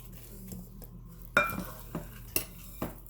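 A large fork works through a bowl of pecan raisin oatmeal cookie dough, giving quiet sticky mixing with several sharp clinks of metal against the bowl, spaced irregularly against a low room hum.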